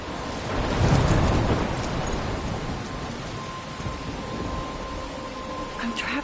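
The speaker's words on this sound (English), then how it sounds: "I'm trapped in a storm." Thunderstorm with heavy rain in the game Life is Strange: a low rumble of thunder swells early, then a dense, steady hiss of rainfall continues close and loud, with no talk.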